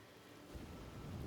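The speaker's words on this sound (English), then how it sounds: "So let's enjoy the storm a moment." A thunderstorm in the video game Diablo IV: a low, rumbling roll of thunder builds over steady rain and wind, swelling louder partway through and staying dense and distant, with no speech.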